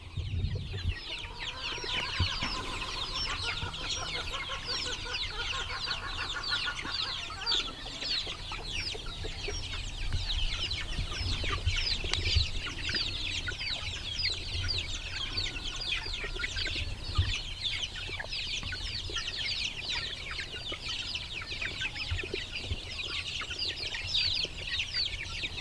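Young one-month-old chicks cluck and peep continuously outdoors on grass in a brooder pen, a busy steady chorus of overlapping chirps at moderate loudness with no talking.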